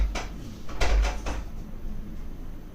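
Several quick wooden knocks or bumps at a door, a short cluster of close, fairly loud thuds followed by a low rattle fading out.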